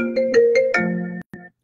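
A phone ringtone plays a short, bright electronic melody of several stepped tones and a held note, then breaks off with one brief final blip.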